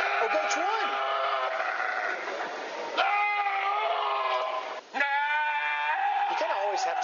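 A goat bleats in long, wavering, loud cries, several in a row with short breaks between, close up and with no other sounds.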